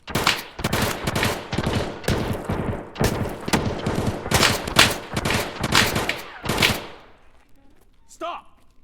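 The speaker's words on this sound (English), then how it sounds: "they do a lot of suppressive fire" Dense bursts of suppressive gunfire in Escape from Tarkov, loud rapid volleys of automatic shots cracking in quick succession for several seconds, then dropping to a quiet tail with a faint distant rattle.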